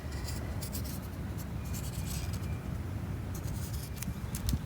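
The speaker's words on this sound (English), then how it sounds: "And all you want to do is trace the outline of your foot." A pen scratching steadily across a sheet of paper while tracing around a bare foot, a close, continuous scratchy rustle with small bursts of stroke noise and no talking.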